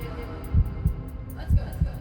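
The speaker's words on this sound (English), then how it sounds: "I can hear my heartbeat in my ears." A heartbeat thumps in deep, close lub-dub pairs, two heavy double beats evenly spaced over a low hum.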